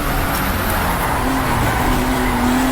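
Racing car engine in a historic sim racing video game, a loud continuous engine roar with a rising tone as it downshifts through the gears, no talking.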